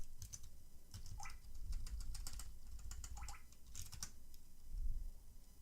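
Someone types a command on a computer keyboard in a Ubuntu terminal; short, quiet clusters of key clicks come in uneven bursts over a faint background.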